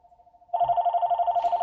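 A telephone rings in a collectibles store: a faint pulsing tone first, then a much louder warbling electronic ring that repeats rapidly and stays close and steady, with no talking.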